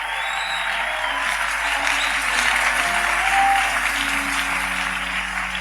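Church congregation applauding during a sermon, sustained steady clapping throughout, fairly loud and dense, with faint voices mixed underneath.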